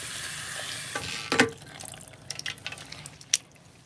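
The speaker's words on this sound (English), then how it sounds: "That cold water feels so good." Cold tap water runs and splashes while a dog is being bathed, a steady wash of water with scattered drips and splashes and a few sharp clatters, no talking.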